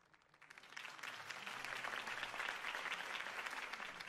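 A crowd in a Batman video game applauds after a campaign speech, the clapping swelling from quiet to a steady, dense roar that carries on to the end.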